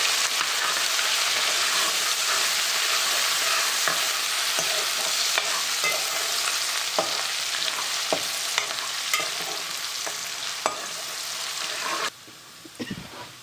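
Ginger garlic paste frying with masala for a chicken curry, a loud continuous sizzle and hiss with scattered clicks of a spoon stirring, briefly dropping quieter near the end.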